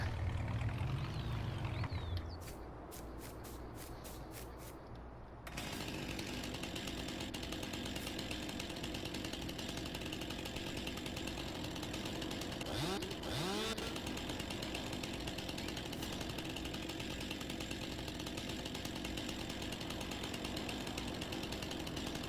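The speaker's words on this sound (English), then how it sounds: "Even having chainsaw difficulties today." Chainsaw in the game Farming Simulator 19, a steady, loud buzzing engine drone running continuously after a brief stuttering start, with a few revving surges partway through.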